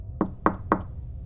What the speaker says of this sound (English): 3 slow taps. Not on my door. On the wall.